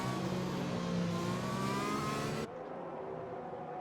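Race cars rev and accelerate together off the line at a race start, a dense, loud engine roar that cuts abruptly to a thinner, quieter drone partway through.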